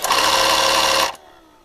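A Sumbay multifunction vacuum cleaner, a compact unit that also has a light and a compressor, runs with a loud close motor whine for about a second, then shuts off and leaves faint hum.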